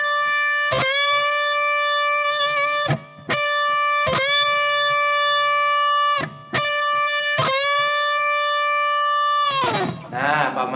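On an electric guitar with effects and distortion, a note on the second string at the thirteenth fret is bent up to pitch several times, each loud distorted note ringing out between short gaps, with a scratchy noise at the end.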